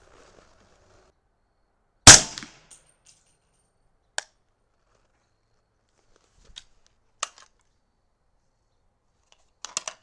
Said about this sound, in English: So let's see if it shoots.